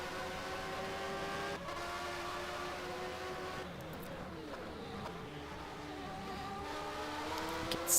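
Formula 1 cars from a racing video game, a Williams and a BMW-powered Benetton at the Australian GP, hold a steady high engine whine with shifting pitch that rises and falls as they accelerate out of a corner.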